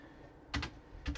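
Two soft, close clusters of computer keyboard keystrokes in a quiet room, a quick tap pair followed half a second later by another.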